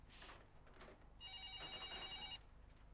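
A telephone rings in a home, a faint electronic trill heard in two short bursts, the second longer and steadier, with quiet room noise around it.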